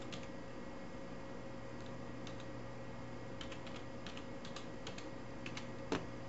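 Faint, scattered clicks of typing on a computer keyboard, soft irregular keystrokes in short bursts over a steady background hum.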